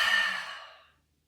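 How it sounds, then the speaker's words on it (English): One long, breathy exhale during a relaxing breathing exercise, the air pushed all the way out. It starts fairly strong, fades smoothly and ends in silence after about a second. "Exhale all your air out."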